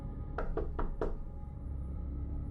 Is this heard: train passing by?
no